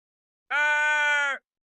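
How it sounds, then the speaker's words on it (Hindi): A turtle in an animated children's story, sinking in a river, lets out a single loud, drawn-out cry of pain lasting about a second, up close, with no talking. "कछुआ दर्द से चीखा"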